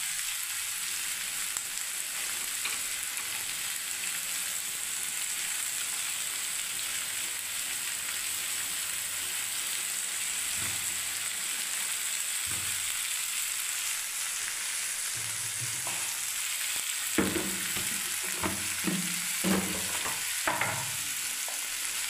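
Carrot, cauliflower and capsicum sizzle steadily in a pan while being stirred, with a constant frying hiss and scattered clinks and scrapes of the utensil that grow busier near the end.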